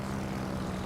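Propeller aircraft engines from carrier planes in a naval battle video game, a steady continuous low drone sustained throughout with no talk.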